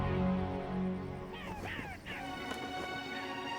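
Birds caw in an outdoor scene in the Lord of the Rings Online game, a few harsh crow-like calls rising over a soft breeze and faint background tones, moderately near.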